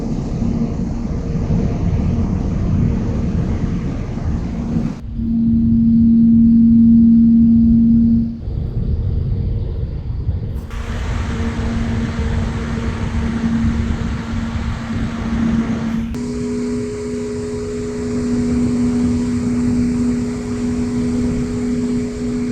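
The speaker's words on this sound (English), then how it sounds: "you guys are listening to the fan at max speed" A Razer Kunai Chroma PC case fan spinning at maximum speed, about 2200 RPM, gives a steady whooshing hum with a clear tonal whine, close and loud, the pitch shifting slightly in sections.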